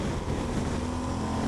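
A 2014 Yamaha Super Tenere motorcycle engine runs hard under acceleration, a loud, steady rumble with a rising tone, heard close and continuous throughout with no talking.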